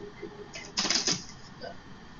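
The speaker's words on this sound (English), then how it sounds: "So I'm going to take my handy dandy cards and I'm going to shuffle them up." A deck of playing cards is shuffled by hand: a quick riffling flutter that swells into a brief crisp burst, then settles, close and moderately loud.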